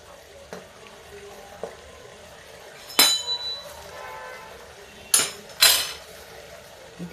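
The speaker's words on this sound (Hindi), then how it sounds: "तो चाशनी हम उठा के इस तरफ रखते हैं" A metal pot of sugar syrup for atta rasgulla is lifted and set onto a gas stove burner in a home kitchen, giving a few sharp metallic clanks and scrapes over faint background hiss.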